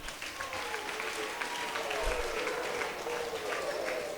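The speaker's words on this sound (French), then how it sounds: "Donc tu peux t'acclamer pour cela." Applause from a crowd at a diocesan closing celebration for World Missionary Childhood Week, a steady wash of clapping hands filling the room for several seconds.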